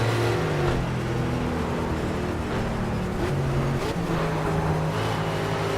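Race car engine in Project Cars at Silverstone, a steady loud drone held high in the revs in fourth gear, with sustained harmonic engine tones throughout and no speech.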